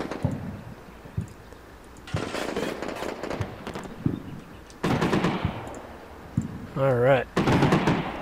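Gunfire from the Combat Mission Shock Force game in an urban fight in Al Amarah, with bursts of automatic fire and sharp reports spread across the clip, plus a short spoken word.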